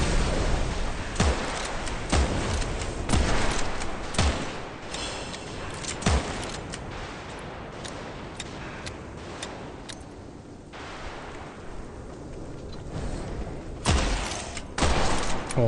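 Gunfire from a recoiling gun in the dark fantasy shooter Witchfire: repeated loud shots at irregular intervals over a dense game soundscape, with a quieter stretch before the firing picks up again.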